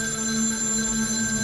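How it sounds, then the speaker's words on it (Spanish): Telephone ringing, a steady, sustained electronic bell tone heard clearly on its own without voices. "sonó el teléfono."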